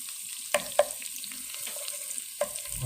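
Sweet potato and potato pieces frying in oil in a pan while being stirred, a soft steady sizzle broken by a few sharp clicks and scrapes of the utensil.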